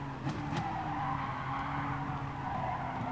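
A race car in GT Sport skids through a corner, tyres squealing in a steady, sustained whine over a constant engine drone, heard alone without talk.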